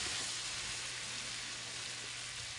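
Arugula and basil sauteing in a hot pan give off a soft, even sizzle that hisses steadily without a break, fairly faint and with no other sound over it.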